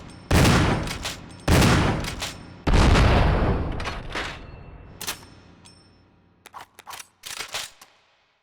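Chris fires shotguns in Resident Evil REmake: three heavy, booming blasts with long echoing tails, then softer clicks and clacks of handling and reloading, no speech.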